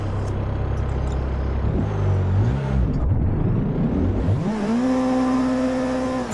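A car engine in a racing video game held against a rev limiter, a loud buzzing drone that bounces and wavers in pitch, dips briefly, then climbs and holds steady at the cutoff.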